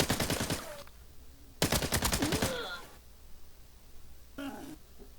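Rapid gunfire in a video game raid: two loud bursts of automatic fire close up, then a fainter, shorter volley near the end, with a quiet low hum between them.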